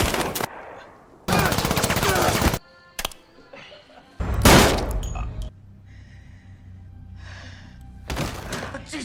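Loud bursts of automatic gunfire from a Resident Evil live-action film, long rattling volleys separated by thuds, clanks and quieter gaps of rumbling ambience.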